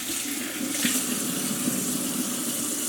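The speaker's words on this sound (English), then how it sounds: "Washing the hands like a good cook." Tap water runs steadily into a kitchen sink while hands are washed, a continuous even splashing hiss with no talk.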